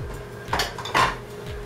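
Dishes and a bowl knock together in a home kitchen, with a few sharp clinks and clatters of crockery and cutlery close by, with no talking.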